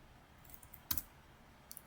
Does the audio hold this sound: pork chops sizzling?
no